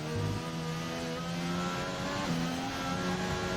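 Onboard engine note of a race car on throttle during a wet lap in a racing video game, a steady tonal drone with pitch steps as revs and gears shift, no talk over it.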